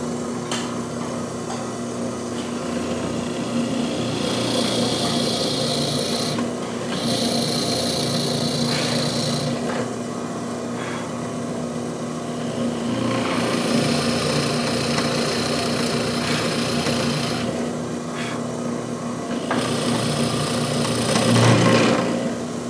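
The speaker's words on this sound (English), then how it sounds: "So I'm going to start from the back side, and I'm going to drill halfway" A power drill with a Forstner bit bores halfway into a wood headstock from the back side, a sustained whirring grind that rises and eases in several long passes, with brief pauses between bursts.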